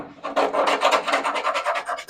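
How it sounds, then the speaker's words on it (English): A tool scraping debris out of the floor tunnel of a 1967 VW Beetle, about a dozen quick rhythmic rasping strokes, loud and close, with no talking. "Might as well scrape that stuff out so I can access this side of the tunnel for that access plate."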